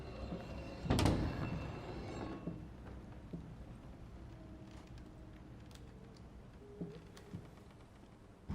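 A door slams shut in the horror game Layers of Fear: one heavy, booming thud near the start that fades into a low, dim ambience with a few faint creaks and ticks.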